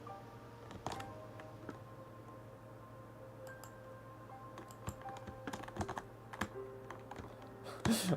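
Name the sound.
typing on a computer keyboard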